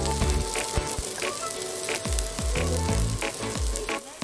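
Garlic, green chilies and chili powder fry in a pot for bitter gourd curry with a steady, loud sizzle, broken by intermittent scraping stirs and clinks of a utensil against the pot.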